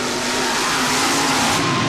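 A fuel-fed mud racing altered with a big 500 cubic inch Keith Black engine roars at full power, a loud, steady, broadband blast of engine noise sustained throughout without a break.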